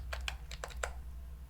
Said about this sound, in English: I'm typing in my username of Scott